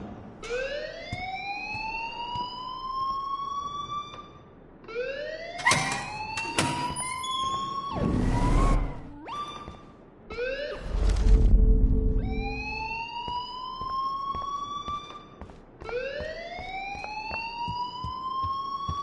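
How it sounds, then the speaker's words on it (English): Rising, repeating siren-like alarm wails in the video game Life is Strange, sweeping upward every few seconds and loud, interrupted midway by heavy clattering and rumbling noise before the wailing resumes. "please turn off that alarm since that's your job"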